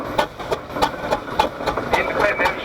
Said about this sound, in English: That's the Western Cider engine